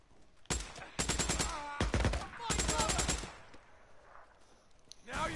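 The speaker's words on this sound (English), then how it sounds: "there's all this shooting" Bursts of rapid automatic gunfire ring out in a Days Gone gunfight, loud close volleys in several bursts with short gaps, a final burst at the end.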